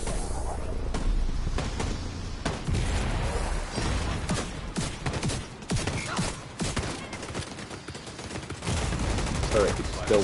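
Turret gunfire in The Division 2, loud and sustained, with dense bursts of rapid shots and impacts running throughout the whole stretch.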